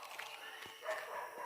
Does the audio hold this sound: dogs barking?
yes